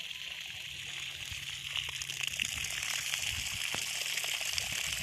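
Water gushes steadily from a new 2021 Rotan 24-volt solar DC submersible pump run on 270-watt panels at a freshly drilled borewell. The strong, continuous rush grows slightly louder midway and stays close.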